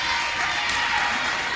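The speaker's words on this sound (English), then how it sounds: "Crowd starting to get into it for the Trojans" Basketball crowd in a gym cheering for the Trojans at a home game, a steady loud roar of voices and applause filling the whole moment.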